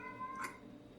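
A stray cat in a building gives a single short, faint meow in a quiet room, no one talking.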